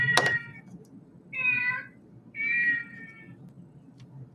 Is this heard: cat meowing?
yes